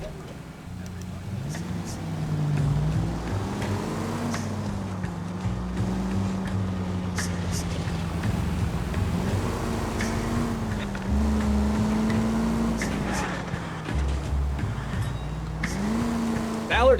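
A car is driven in the video game LA Noire, its engine droning and rising and falling in pitch with gear changes under a wash of game ambience. Talk can be heard in places.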